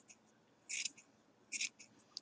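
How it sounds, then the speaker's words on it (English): Two quick snips of scissors trimming the fluff of a yarn pom-pom, faint and close, with a short pause between the cuts and a tiny click at the end. "I'm just going to cut in small sections"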